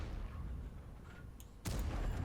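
A single sharp tank cannon shot in a video game booms out near the end after a stretch of low rumbling engine noise.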